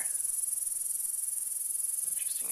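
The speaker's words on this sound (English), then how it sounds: "Absolutely tons of honeybees. I can hear the buzzing all through this area." A dense, steady insect buzz at Leeper Lake, with many honeybees droning continuously close by and no one talking.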